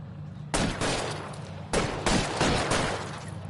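Sustained gunfire fills a tense shootout, bursts of rapid shots starting abruptly and continuing in dense, loud volleys with brief gaps between clusters, close and harsh with no talking.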